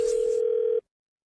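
A steady telephone dial tone hums for under a second before cutting off abruptly into silence as a prank call is placed to a department store.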